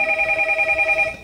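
A telephone ringing with a steady electronic warble, close and fairly loud, one short continuous ring with no voices.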